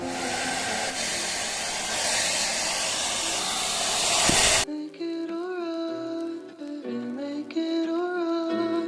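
A hair dryer blows a loud, steady hiss over a freshly done acrylic landscape painting for several seconds, then cuts off abruptly and music takes over.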